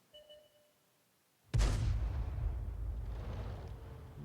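A VK3601H tank in a tank video game fires an artillery shell, a sudden loud boom that rolls into a long rumbling tail, preceded by a faint electronic tone.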